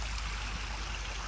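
Steady, rushing flow of pond water spilling by a backyard waterfall, a continuous broadband wash close by with no pauses or talk.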